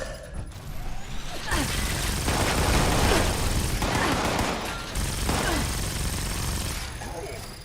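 Sustained gunfire in Fallout 76, a heavy, dense roar of shots that swells and stays loud for several seconds with only slight dips.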